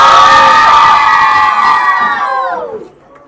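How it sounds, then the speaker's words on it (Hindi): Children shouting together at a music launch event, a loud sustained chorus of high-pitched voices that holds for a few seconds and then falls away. "बच्चे लोग चिल्लाओ।"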